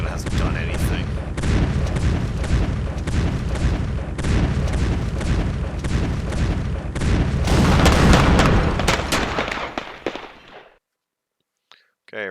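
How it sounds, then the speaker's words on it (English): Dense rumbling barrage of artillery from the World War I strategy game To End All Wars, a continuous stream of overlapping booms and crackles that swells louder near the end before cutting off abruptly, with no talking. "Oh yeah, all the wonderful bombarding that hasn't done anything."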